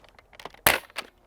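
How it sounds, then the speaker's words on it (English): Amazon Ultra Four toy foam blaster fired once, preceded by faint clicks of the charging handle, then a sharp, fairly soft pop with a brief rattle just after, close and alone. "that's the sound of the Amazon Ultra Four"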